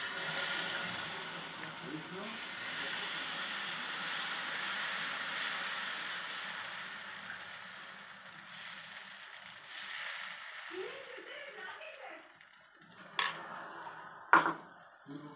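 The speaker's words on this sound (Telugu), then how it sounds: "ఇప్పుడు దోశ పెనం మీద వేసుకోవడం." Dosa batter hitting a hot griddle pan gives a steady broad hiss through most of the clip, easing a little partway through, with faint utensil clinks and two sharp metallic knocks near the end.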